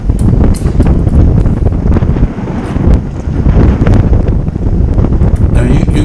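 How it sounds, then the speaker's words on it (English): Wind buffeting a microphone during a group bicycle ride outdoors, loud and constant roaring gusts with bursts of rattling noise, and no voices heard. "You can hear the wind. I mean, it's just everywhere, the whole ride, every direction."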